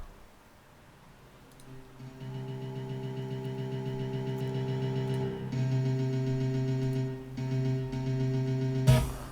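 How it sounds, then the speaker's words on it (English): A melody keyboard part holds one repeated C note in a steady, sustained drone, mid-level and alone, with a brighter hit near the end. "the only thing that the melody keyboard is playing in this case is that one C note"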